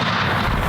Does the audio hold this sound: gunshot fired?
yes